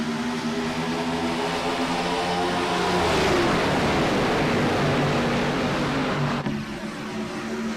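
A pack of race cars restarts at Michigan Speedway in iRacing, engines droning loudly together and rising in pitch as they accelerate, forming a dense, continuous roar.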